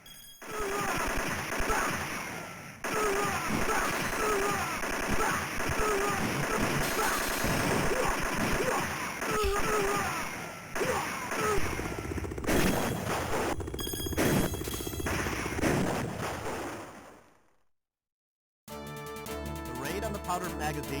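Rapid machine-gun fire from the 1987 arcade game Operation Wolf, loud dense bursts of shots mixed with game effects and music, then a short silence before the game sounds return.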